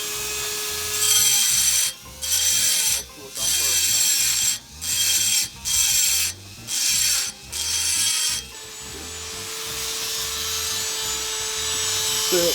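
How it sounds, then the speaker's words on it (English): A knife blade's throat is ground on a machine that hums at a steady pitch. Roughly seven harsh, hissing grinding passes come in rhythmic bursts with brief quieter gaps, then give way to a continuous, slightly softer grind. "we're gonna start with grinding out the throat of this blade"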